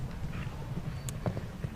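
Hoofbeats of the show jumper Pembury Condor's Diamond in a 1.45m grand prix arena, soft steady thuds on footing with a few sharper strikes near the end, moderately close under a low ambient rumble.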